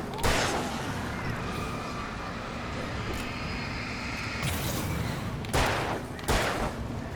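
Gunfire in the video game Alan Wake: several loud, booming shots spaced seconds apart, each followed by a rumbling tail, over a dense, noisy ambience.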